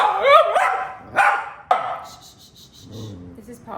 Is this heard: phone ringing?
no